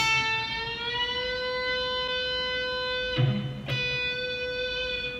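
Electric guitar string bent upward so a sustained note slides smoothly up in pitch, played alone and clearly with rich overtones, followed by a couple of brief pick or fret noises and the note ringing on.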